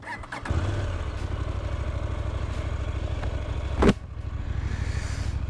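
A 2024 KTM 990 Duke motorcycle engine idles with a steady, throbbing low rumble, close by, with a sharp blip of revs near the end before settling back to a loud idle.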